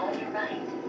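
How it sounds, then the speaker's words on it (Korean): A subway train passes by as a steady, dense rumble and rush under a person talking on a phone. "지하철이 지나가는데요."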